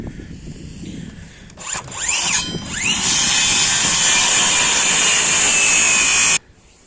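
A power saw cuts a wooden board for a simple shed roof frame, a loud close whine that rises as the blade bites in, holds steady through the cut, then stops abruptly.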